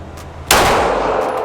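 A Glock 17 pistol fires a single loud, sharp shot at a shooting range, with a sudden blast and a lingering reverberant tail, no voices heard.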